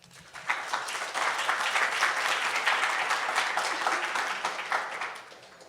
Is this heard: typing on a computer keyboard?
no